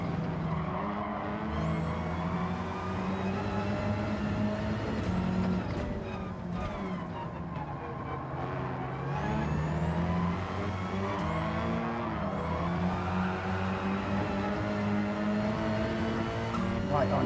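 Gr.4 race cars lap the Nürburgring in Gran Turismo 7, engines droning loud and continuous with rising and falling pitch through gear shifts as several cars run close together, while a commentator talks over them.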